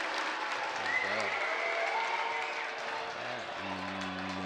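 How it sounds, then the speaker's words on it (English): A high school basketball student section roars and boos the referee, a dense sustained crowd noise with an announcer's voice talking over it at intervals. "Lone Peak student section was booing the ref"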